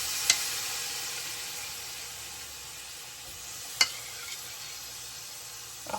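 Marinated shrimp sizzle with a steady, even hiss in a hot skillet, broken by a couple of sharp clicks or taps.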